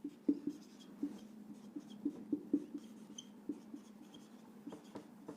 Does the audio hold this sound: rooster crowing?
no